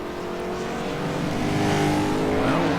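Race cars roll down pit road with a continuous loud engine roar whose pitch climbs steadily as they accelerate, heard close and with no voices.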